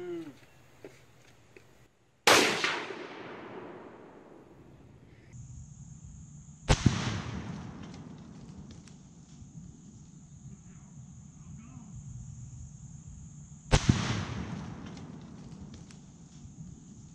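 Three sharp, loud blasts from Tannerite targets set off by a single rifle bullet, each a sudden crack followed by a long rumbling decay, spaced several seconds apart outdoors.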